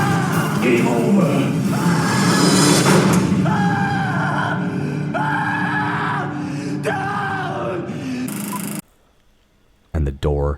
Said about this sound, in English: And then Adam is just screaming the entire time